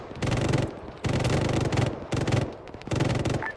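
Automatic gunfire in Arma 3, incoming from the eastern hills, comes as four loud, sustained bursts of rapid shots separated by brief pauses, with no talk over it.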